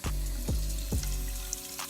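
Hot water runs steadily from a sink tap in a continuous close gush, with a few low rhythmic thumps underneath, and no one speaking.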